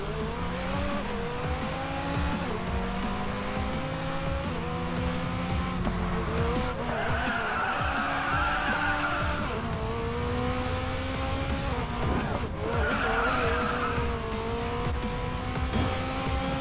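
A Mitsubishi Evo 3 drifting in the Racing Master game, with loud engine revs rising and falling in pitch and bursts of tire squeal during slides, near and continuous.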